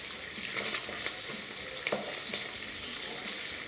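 Sausages, already fully cooked, browning in a hot pan while making breakfast, giving a steady close sizzle and crackle with a few sharper pops, no voices.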